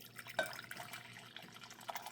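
Coffee poured into a cup, a faint, soft liquid trickle with a few small drips and clinks, quiet and close, with no talking.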